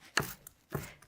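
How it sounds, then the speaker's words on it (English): A knife chops roughly through a bunched pile of fresh parsley on a board, giving two crisp close strokes about half a second apart, each with a short scraping tail. "So we're going to just kind of bunch it up and then just run your knife through it."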